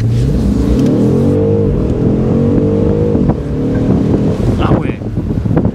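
A BMW M850i convertible accelerating quickly up to about 50 km/h, its engine rising through a steady, loud climbing drone heard from inside the open car, with wind rushing over the microphone.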